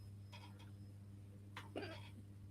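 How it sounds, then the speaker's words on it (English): A faint single hiccup sounds close by in a quiet room, followed by a soft vocal catch, over a steady low hum. "so I have a hiccup"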